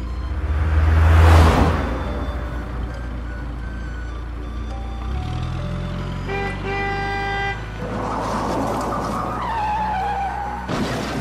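A loud whoosh, then a blaring horn, screeching tires and a heavy crash as a large truck speeds in from the opposite direction and collides with a funeral bier.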